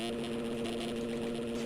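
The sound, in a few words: dirt bike engine revving in video game MX Simulator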